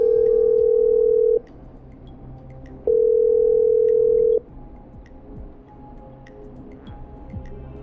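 Steady telephone dial tone from the video game Killer Frequency, sounding in two long loud bursts of about a second and a half each, separated by a gap, then cutting off into quiet room noise.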